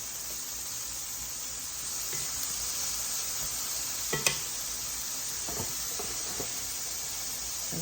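Organic baby spinach frying in a pan gives a steady, close, bright sizzle and hiss throughout, with a few soft stirring scrapes and taps in the middle.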